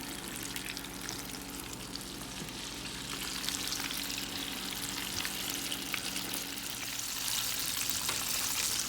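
Soul food chicken pieces frying in hot oil, a dense, steady crackling sizzle that holds throughout and grows slightly louder near the end, with no talking.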